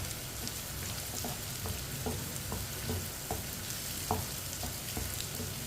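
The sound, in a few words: arbi (taro) masala frying while stirred with a spoon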